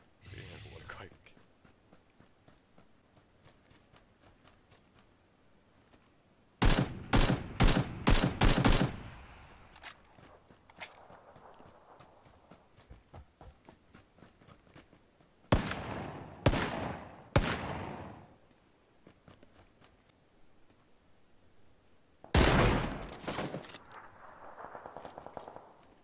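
Automatic weapon gunfire in PLAYERUNKNOWN'S BATTLEGROUNDS, with three loud bursts of rapid shots separated by quieter stretches, in a close and punchy mix, with players talking faintly in the gaps.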